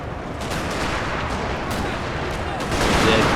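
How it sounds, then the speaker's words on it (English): Massed musket volleys crack and rumble across an American Civil War battlefield in a Total War game, a dense, continuous roar of gunfire with a louder swell near the end. "Good volley at the last second there by the Confederates."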